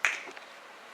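One sharp, close finger snap cracks at the start, then quickly fades into near silence with only faint room noise.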